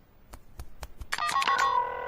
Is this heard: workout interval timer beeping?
no